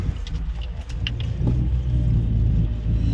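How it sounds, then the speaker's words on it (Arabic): A car pulls away and drives on just after refuelling, with a steady low engine rumble and road noise building over a few seconds, plus some light rattling or jingling early on and no talk. "خلاص حطينا بنزين وماشيين"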